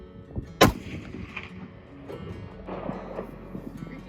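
A single loud rifle shot cracks out toward a steel plate at 200 yards during a public-land mule deer hunt, followed by a faint distant ring and outdoor wind noise.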